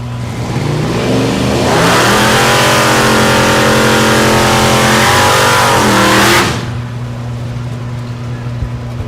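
A drag race car does a burnout at Thunder Valley in Noble, Oklahoma, its engine roaring loud and rising in pitch as the tires spin, holding for several seconds before cutting off, leaving a lower background rumble.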